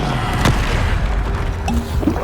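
A Bombarda spell blast in Hogwarts Legacy, with a loud, dense booming rumble and gurgling debris noise filling the whole moment, up close and without clear speech.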